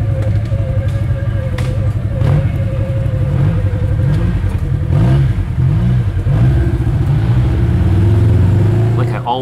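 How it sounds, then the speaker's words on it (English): A Polaris RZR 900S side-by-side engine brakes on a trail in early spring, its loud, close engine note rising and falling through gear changes under someone talking throughout. "Engine braking's pretty good."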